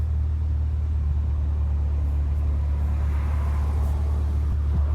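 Inside a car moving through rush-hour traffic, a constant deep engine and road rumble drones steadily, with faint passing traffic noise above it and no speech.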